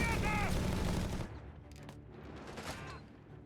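Sturmgewehr assault rifles firing in the strategy game Company of Heroes 3, bursts of rapid gunfire up close that give way to quieter distant shots, with a voice talking faintly underneath.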